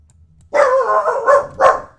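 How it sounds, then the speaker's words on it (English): A dog barks three times, loud and close, the first bark drawn out and the next two short, with quiet room background before and between them. "These dogs are going to drive me crazy today."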